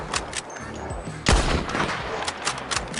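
Krag-Jorgensen rifle, named Springfield Rifle in Red Dead Redemption 2, fires one sharp, loud crack that rings out and decays, set among scattered distant gunfire in a battle scene.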